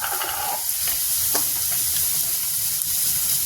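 Tomatoes and salt land in a pan of frying onions for a Uttar Pradesh matar nimona, giving a steady, loud sizzle and hiss with faint stirring scrapes throughout.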